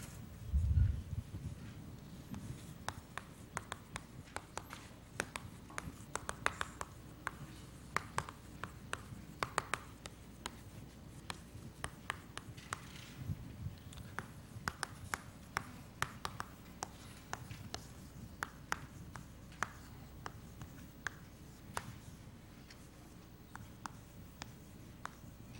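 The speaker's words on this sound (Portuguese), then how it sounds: "deixa eu escrever isso aqui" Chalk scratches and taps on a classroom board during a combinatorics lesson, coming as irregular short strokes and clicks over a faint room hiss and lasting the whole stretch, without any speech.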